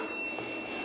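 A toaster oven timer rings when done: a steady, sustained metallic bell tone, close and clear, continuing unbroken throughout with no voices.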